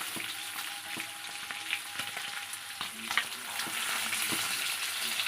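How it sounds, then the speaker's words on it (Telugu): Fish fries in a little oil on a flat pan with a continuous close sizzle and crackle, scattered pops and occasional turning scrapes, no voices. "చూడండి ఎలా కాలుతుండాయో."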